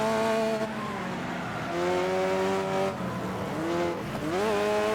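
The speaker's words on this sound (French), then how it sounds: "la muscle car, là, vous entendez le bruit" A muscle car engine in the racing video game Next Car Game drones loudly and steadily, its pitch holding, dipping and then climbing sharply near the end as the throttle changes, with no talking over it.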